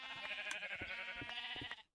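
Sheep in the video game Forever World bleating, a couple of quavering, harmonic-rich bleats over two seconds, clear but fairly quiet, with no talk.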